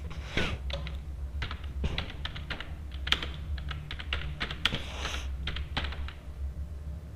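Keys on a computer keyboard clatter in quick irregular bursts while someone codes a hand cricket game in Java, close and fairly quiet, with short pauses between runs of keystrokes.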